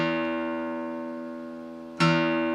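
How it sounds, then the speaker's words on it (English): A guitar's low E string, plucked for tuning, rings with a steady sustained tone that fades gradually, then is plucked again at about two seconds with a sharp fresh attack. "let's start with our big E string."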